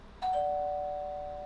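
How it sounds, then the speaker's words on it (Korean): A doorbell gives a single clear electronic chime, two overlapping tones that ring out and slowly fade, alone in a quiet room. "초인종이 울렸다."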